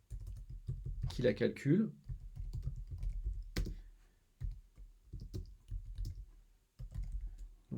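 Rapid keyboard clicks while code is written, a steady run of light taps heard alongside someone speaking French.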